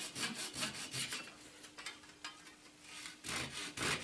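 A hand saw cutting through MDF. The blade rasps back and forth in steady strokes, with brisk bursts at the start and end and slower, quieter pulls between them, all close up with no voices.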